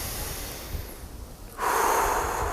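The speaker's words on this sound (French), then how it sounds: "Donc j'inspire." A single slow inhalation during a grounding breathing exercise, soft and breathy at first, then swelling into a louder airy intake near the microphone.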